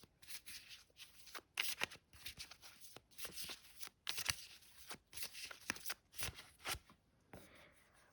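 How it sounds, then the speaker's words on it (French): Jane Austen oracle cards being shuffled and drawn by hand, quick papery riffles and soft flicks in uneven clusters, close and fairly quiet with brief pauses between bursts. "On va prendre également donc une carte de l'oracle Jane Austen pour vous"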